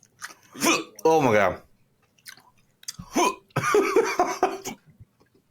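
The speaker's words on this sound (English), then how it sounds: "I got hiccups." A person hiccups in short, sharp jolts between spoken exclamations, with close, clear voices and chewing-like mouth sounds interleaved.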